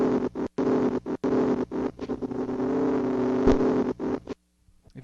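Tape loop playing through a hardware sampler, a droning buzzy tone chopped by repeated abrupt gaps into an irregular stuttering rhythm, close and steady, ending in near silence.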